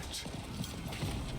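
Horse hooves clop briefly in Diablo IV, a quick, muffled patter of steps under a dense, noisy game soundscape.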